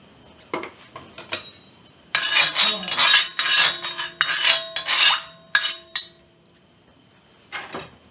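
Beef and broccoli hit hot oil in a cast iron wok, giving bursts of sizzling and scraping with metal clanks, in uneven clusters separated by short pauses.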